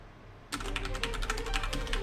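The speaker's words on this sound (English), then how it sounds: "I can barely keep up with this on keyboard" Rapid computer keyboard typing used to play Dance Dance Revolution, a dense stream of clicky key presses that bursts in loudly after a brief quiet start and keeps a fast, uneven rhythm over a low background hum.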